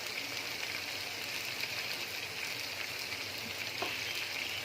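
Steady sizzling and frying of cabbage keema in a pan as red chili goes in, a dense continuous crackle with faint stirring, close and even throughout.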